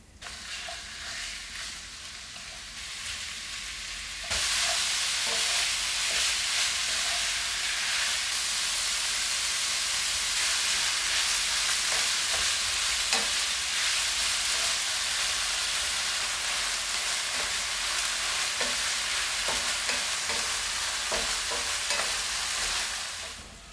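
Seasoned egg roll meat filling frying on a stove, a loud steady sizzle and hiss that jumps up in intensity a few seconds in, with scattered scraping stirs throughout and no talking.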